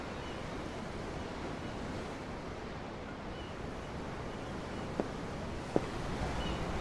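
Steady ocean waves and surf in Tales of Arise, heard from aboard a boat at sea: a continuous broad wash with some wind, and two faint clicks near the end.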